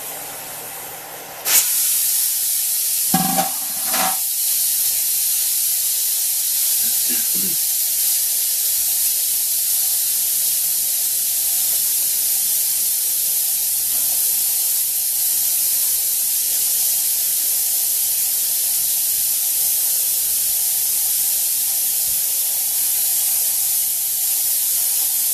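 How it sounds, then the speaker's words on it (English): A pressure cooker vents steam after its weight is lifted while dyeing plastic puzzle parts. A loud, continuous hiss starts abruptly and holds steady, with a few brief clanks near the start. "the weight off, and it's going to vent a bunch of steam this way."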